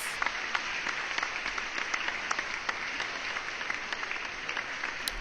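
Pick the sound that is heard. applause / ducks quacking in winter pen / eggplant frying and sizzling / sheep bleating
applause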